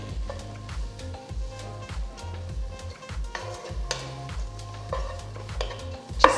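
Finely chopped capsicum and other vegetables for soup cooking in a pan, a soft sizzle broken by repeated scraping stirs and occasional clinks of a utensil against the pan.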